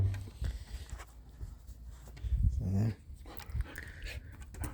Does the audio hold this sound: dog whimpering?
yes